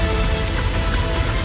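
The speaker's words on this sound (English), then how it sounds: "It's 44 degrees and it's nice and rainy outside." Steady rain on a 44-degree day, a dense continuous hiss of drops hitting surfaces outdoors, loud and close with no pauses.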